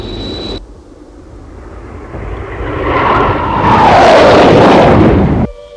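A MiG-242 jet roars past in a TV show, the loud engine swelling to a peak and then cutting off abruptly.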